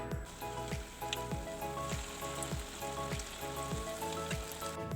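Mushroom pakoda batter fries in hot oil, a steady close sizzle and crackle that runs unbroken under a faint repeating thump, with no one talking.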